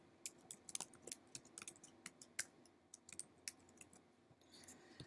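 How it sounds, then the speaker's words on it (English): Quiet, close typing on a computer keyboard, irregular bursts of sharp key clicks with brief pauses between them, entering Python code into a notebook, with no talking. "we can type Python code to run"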